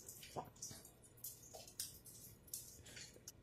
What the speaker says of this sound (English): on the floor you can hear the leak. You can hear the leak. Literally, it's dripping down.